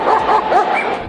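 A police dog with its officer gives a quick series of yipping, whining barks at close range, loud and continuous throughout.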